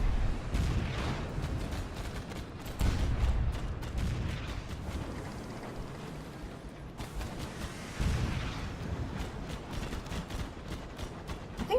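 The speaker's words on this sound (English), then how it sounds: "We're going to stop shooting now" Ship guns firing in Sunless Skies, booming shots in a few spaced bursts over a steady low engine-like drone, fairly loud and close.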